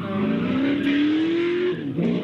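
A powerful Chevrolet race car drives in a motorsport event, its engine note holding loud and steady, rising slowly in pitch as it accelerates, then briefly dipping before climbing again.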